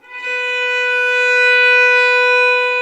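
Violin playing a sustained B note, a single bowed tone rich in overtones, held steady and clear for about three seconds, close and alone.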